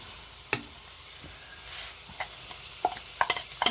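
Green peppers and hash browns fry in a pan with a steady low sizzle, while a wooden spoon scrapes and taps in scattered clicks that speed up toward the end, close by with no talking.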